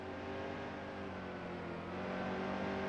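Steady, constant drone of a race car engine held at full throttle in the NASCAR Heat 2 video game, an Xfinity Series stock car, a continuous harmonic whine running for a few seconds at moderate level with no talk.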